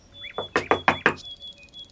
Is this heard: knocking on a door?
yes